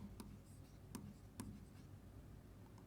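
A marker or chalk scratching out quick short strokes on a classroom board during a physics lesson, a few sharp taps and scrapes over a soft room hum, fairly close and faint.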